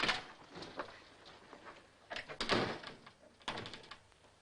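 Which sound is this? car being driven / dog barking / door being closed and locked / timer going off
door being closed and locked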